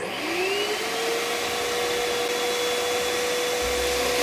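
A LANGXUN snow machine runs loudly and steadily, a continuous blowing roar with a rising motor whine that settles into a sustained tone, close by and without talk.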